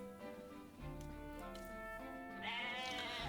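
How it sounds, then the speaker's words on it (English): A goat bleats repeatedly in the video game Atelier Ryza, a wavering, nasal in-game animal cry that grows louder and higher toward the end, heard alone without talk. "Why is a random goat here? Why is there a goat up in a tree?"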